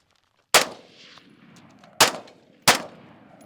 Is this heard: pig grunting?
no